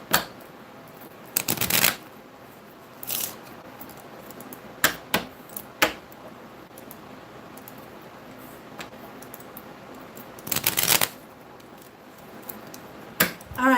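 Tarot cards being shuffled before a card is pulled, several quick riffling bursts of stiff cards spread across the span with brief fluttering rushes and taps between them, close and fairly loud with no talk.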